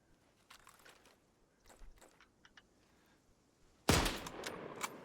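A .303 rifle fires in the video game Antistasi Ultimate, one loud sharp report near the end that rings out, after a stretch of faint, scattered distant shots and clicks.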